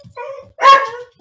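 A dog barks a couple of times close by, with loud sharp yips between short quiet gaps while a person speaks in between.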